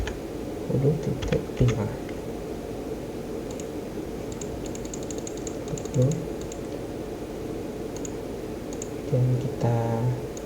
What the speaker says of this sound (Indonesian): kita ketik web server, kita ketikkan